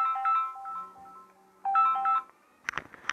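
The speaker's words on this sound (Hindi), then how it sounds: "अरे कोई किसी का फ़ोन आ गया।" A phone ringtone from an incoming call chimes out in short melodic bursts, one phrase and then a second, during a discussion on tribal rights. A few sharp clicks and handling noises follow.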